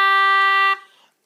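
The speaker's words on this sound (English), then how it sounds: "Right, next note is a G, which sounds like this." A single sustained G note on an English concertina, steady and bright for most of a second, then quickly releasing into a short fading decay.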